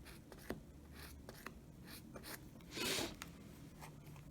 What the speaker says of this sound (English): I'm going to mark the fabric in order to create the fold.